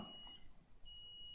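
A BLUETTI home backup power station sounds its alarm, set wrongly to split phase with a multi-communication error: two long steady high beeps separated by a short gap, quiet against a low background hum.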